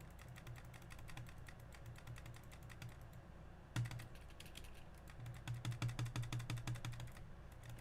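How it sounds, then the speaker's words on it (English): Intense computer mouse clicking during a free-to-play game session: a rapid, steady stream of sharp clicks with no talk, fairly quiet and close, growing denser toward the end. "Intense mouse clicking."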